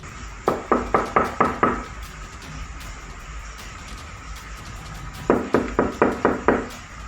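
Two sets of firm knocks on a house door at night: a run of about six quick, evenly spaced raps, a pause of several seconds, then another run of six, close and clear over a quiet background hum.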